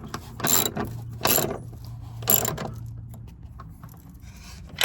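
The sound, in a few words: ratchet wrench clicking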